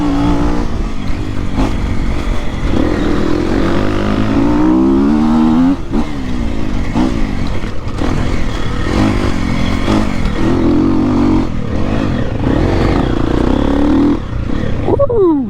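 An enduro motorcycle ridden off-road on a dirt special-stage trail, its engine loud and close, revving up and down again and again as it accelerates and climbs through the gears, with rough clattering underneath.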